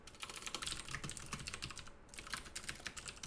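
Rapid typing on a computer keyboard, a steady stream of close, crisp key clicks with uneven rhythm and a brief pause partway through.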